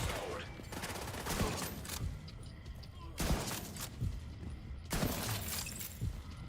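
Rapid automatic gunfire from a deployable turret in a shooter video game, loud bursts over continuous battle noise and a voice talking.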